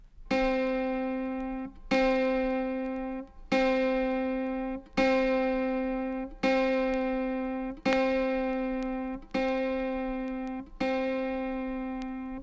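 Eight evenly spaced plucks of an autoharp's lower-octave A sharp, the tenth string from the bottom, each ringing out clear and close with a bright harmonic tail before decaying, with no voices.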